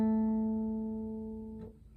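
A single guitar G string plucked as part of a song's main riff, ringing out clearly and slowly decaying, with a faint soft touch near the end.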